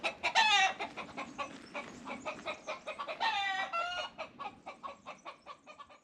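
Hens cluck and squawk in quick, busy bursts on an off-grid homestead, a few close and loud with others chattering around them, with no talk.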